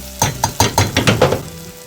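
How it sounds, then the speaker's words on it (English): Apples caramelize in vegan butter in a pan, giving a run of six or seven loud, close sizzling bursts at a quick, uneven rhythm as the fruit is moved and stirred. "I'm now caramelizing some apples"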